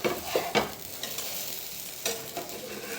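Dosa batter fries on a hot pan with a steady close sizzle, broken by a few brief scraping or stirring bursts.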